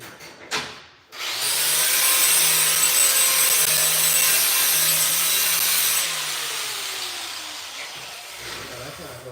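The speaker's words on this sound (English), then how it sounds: "I'm gonna grind it here." An angle grinder works on a metal mining cart, a loud sustained broadband whine that starts after a brief knock, holds steady for several seconds, then eases lower and fades.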